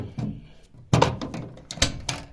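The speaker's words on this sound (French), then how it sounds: "Je vais ouvrir la porte manuellement." A Miele washing machine door is opened by hand during disassembly, producing a sharp latch clack followed by a few clicks and knocks spread over a couple of seconds in a quiet room.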